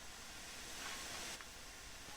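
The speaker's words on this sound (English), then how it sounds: "Open the cylinder cocks to remove any water from the cylinders after the locomotive has been left standing." Steam hisses from the open cylinder cocks of an LMS Class 6P steam locomotive on the Peak Forest Line in Train Sim World 4, a steady broadband rush that swells briefly in the middle before settling.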